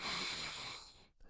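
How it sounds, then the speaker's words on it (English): A deep breath drawn in, a single steady airy inhale held for about a second, close and soft, before it fades out. "please, again, take a deep breath in"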